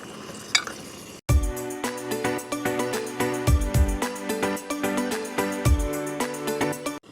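A spoon stirs spiced potatoes in a metal pan, giving repeated loud scraping and clinking strokes with a light sizzle underneath, close up and without talk.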